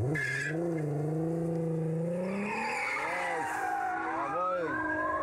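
A short-wheelbase stunt car holds a long drift, tires squealing and skidding loudly and continuously while the engine note rises and falls, close by, with people's voices over it.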